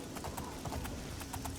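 A paint horse gallops in the video game Oblivion, its rhythmic hoofbeats pounding steadily and fairly close over a constant game ambience, with no speech.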